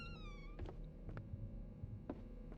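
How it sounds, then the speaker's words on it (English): Cat in the game The Alien Cube giving a single meow with a falling pitch at the start, fairly faint over a low steady hum, followed by a few soft thumps and clicks. "I just heard a cat."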